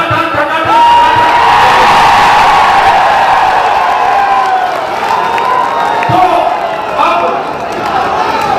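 A crowd at a Rahul Gandhi rally cheers and whoops loudly, with overlapping shouts and a broad roar that swells and dips over several seconds, close and dense.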